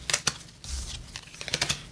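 A deck of playing cards is shuffled quickly, with a rapid series of crisp, close riffling clicks and flutters in two short bursts and a brief softer slide between them.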